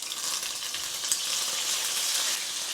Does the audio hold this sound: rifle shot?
no